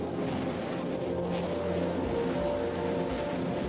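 A Rocket Lab rocket lifts off the pad with a steady, heavy distant roar and low rumble sustained throughout, with no talk.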